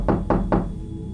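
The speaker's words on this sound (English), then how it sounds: "suddenly another forceful knock came upon the window" Three forceful knocks on a window, evenly spaced and sharp, loud and close with a short ring after each, no voices.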